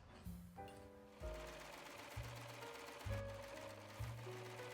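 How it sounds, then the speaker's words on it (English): A sewing machine stitches elastic onto a crop top in short, buzzing runs separated by brief pauses. The motor pitch shifts from burst to burst, and the machine sounds close and fairly quiet. "we're going to take our elastic and we're going to sew the elastic down"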